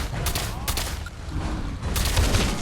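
Rapid bursts of gunfire from the video game Fallout 4, a string of sharp shots in uneven clusters during combat against a large gator claw creature, with a steady game soundtrack beneath.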